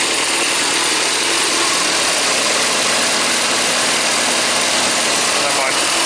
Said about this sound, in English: So I'm going to start the compressor up.